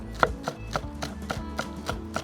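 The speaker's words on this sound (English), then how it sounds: "You want to chop the spring onions really small" Knife chopping spring onions on a board for sirloin steak rolls, nine or so crisp, evenly spaced cuts at a steady rhythm, close and clear with no talking.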